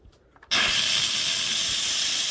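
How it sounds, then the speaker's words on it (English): Steam blasts from an Instant Pot's pressure release valve after cooking corn chowder, starting abruptly after a brief quiet moment and holding as a loud, steady, close hiss. "now we're going to go ahead and release the pressure"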